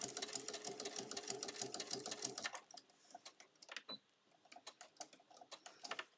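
A sewing machine stitches a bag in a quick steady whir, stops briefly, then runs a short back stitch in a few sparse, softer bursts of clicking needle strokes, close and fairly quiet.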